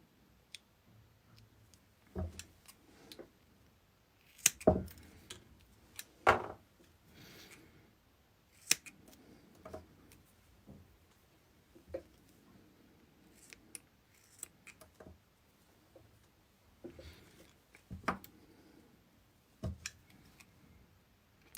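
Scissors snip double-sided tape while an RC car radio board is assembled, sharp isolated cutting clicks spaced irregularly over quiet background, with soft handling ticks and rustles between the snips.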